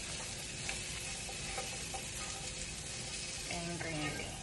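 Bacon, garlic and green beans stirred together in a pan with the heat just turned off, giving a steady soft sizzle and scraping with a few brief clinks near the end.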